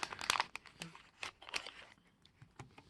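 Plastic Ziploc baggies being handled and opened, giving quick crinkling and crackling rustles in close, uneven bursts, fairly quiet with no talk.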